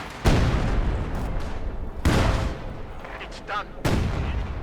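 Mortar round explosions in the Company of Heroes 2 strategy game, three heavy booming blasts spaced a couple of seconds apart, with a short spoken phrase between them.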